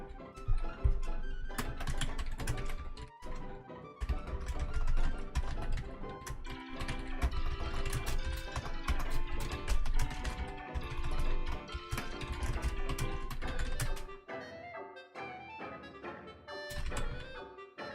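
Rapid clattering keystrokes on a computer keyboard, typing to post a live notice, dense irregular clicks running throughout with brief pauses and a few louder thunks.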